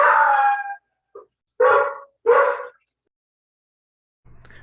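A dog barks and howls in a few drawn-out yowling bursts separated by short silences, close and fairly loud, ending with a faint low rumble.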